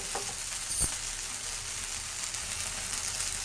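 Mudakathan dosa batter hisses and sizzles steadily on a hot kadai, a continuous close frying crackle with a brief clatter near the start and no talking.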